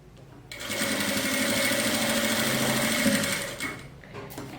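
A sewing machine runs steadily for a few seconds, sewing a securing stitch that tacks a pocket onto lining fabric for a handmade zippered pouch. The mechanical whir is close and even, then stops.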